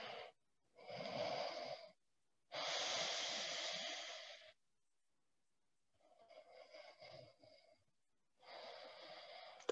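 Slow, deep breaths during a seated yoga twist: four long airy inhales and exhales alternate with short silent pauses, close and steady with no talking.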